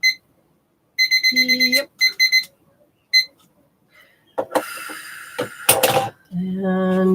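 A timer alarm beeps in repeated bursts of rapid electronic tones, loud and close, followed by clattering and handling noises, with a brief spoken word.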